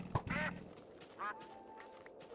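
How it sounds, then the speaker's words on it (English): Two quacks from a duck in a Minecraft-style video game, a nasal squawk near the start and a shorter one about a second later, over a quiet background with a brief thump at the start. "That duck quacked, yes."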